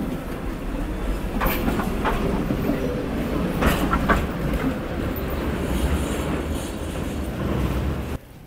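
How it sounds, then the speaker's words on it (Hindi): A tram runs on tracks laid into a narrow city street, a steady near rumble with clickety-clack of wheels and faint squeals, continuous throughout. "कैसे इस पतली सी गली में भी ट्रैम चल रहा है, ट्रेन।"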